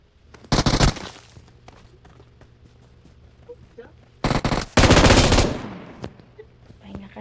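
Machine gun fire in PUBG Mobile, two loud bursts of rapid automatic shots, one brief and one longer, with quieter scattered shots between, while players talk over the game.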